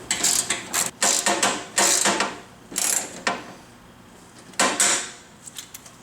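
Bolts tightened with a ratchet during assembly of a Ridgid R4512 10-inch table saw, bursts of rapid clicking ratchet strokes, close and loud, pausing between turns, with no one talking.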